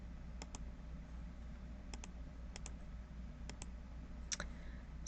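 Computer mouse clicks come in quick double taps, five pairs spaced about a second apart, crisp and close over a faint low hum, with no voice.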